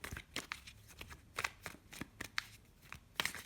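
Tarot cards are shuffled by hand, a close run of crisp riffling bursts and soft slaps coming in uneven pulses every few tenths of a second, with no voice over them.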